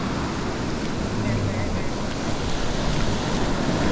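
Ocean surf rolls onto a fishing beach in a steady, loud wash of breaking waves, mixed with gusty wind noise on the microphone throughout.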